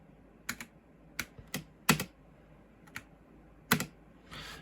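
Scattered keystrokes clatter on a computer keyboard with an input-dropping fault, coming in sharp, uneven clicks and small bursts with pauses between, close and fairly quiet.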